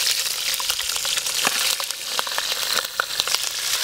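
Cumin seeds crackle and sizzle in hot oil in a pan for an aloo tamatar curry, a steady dense fry with scattered sharp pops throughout, close and fairly loud, with no voices.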